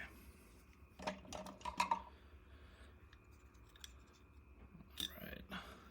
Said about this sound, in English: take some solder wire, trim that